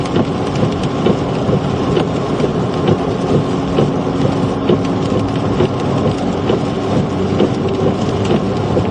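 A thunderstorm during a Minnesota storm chase brings steady heavy rain and rumbling thunder, a dense, loud, continuous roar with no voices.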